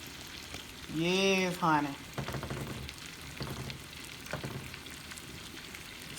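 Shrimp frying in a pan give off a steady close sizzle and crackle while someone speaks briefly over it near the start.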